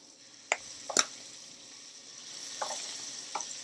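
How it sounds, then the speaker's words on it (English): Scallops sizzle in a hot Pantelligent smart frying pan as they are flipped, with a steady soft fry hiss under a few sharp clicks and taps from turning them, all close and fairly quiet. "Flip the scallops."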